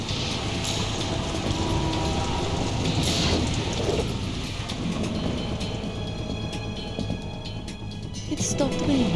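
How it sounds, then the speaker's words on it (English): Steady rain falling in the video game Metal Gear Solid 2 Sons of Liberty, a dense continuous hiss with low rumbling underneath, heard over and between talking voices throughout. "It stopped raining."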